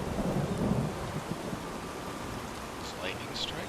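Thunder rumbling through a storm with rain in the fantasy video game Enderal, a low roll swelling early then fading under a steady broadband wash of rain, with faint sharper crackles near the end.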